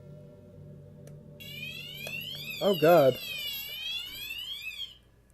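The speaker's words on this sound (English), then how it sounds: "That's my alarm clock to wake up from work." An alarm clock rings in a bedroom setting: a high, steady electronic tone with wavering pitch sweeps, running continuously for several seconds at moderate loudness while a voice speaks briefly over it.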